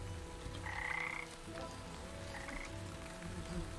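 Frogs croaking in the fantasy crafting game Wytchwood, a few raspy croaks over a soft, steady rain-like ambience, moderately near but quiet, with no voices.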